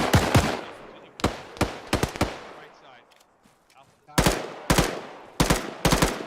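Rapid bursts of gunfire in the military shooter ArmA 3 during an infantry squad firefight, loud close shots in clustered volleys with a short lull in between, under radio-style squad chatter.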